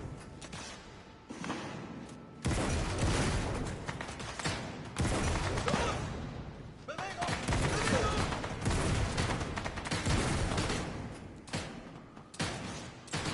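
Gunfire in a sniper video game, loud broadband bursts of shots in clusters with brief gaps, close and harsh, with people talking intermittently.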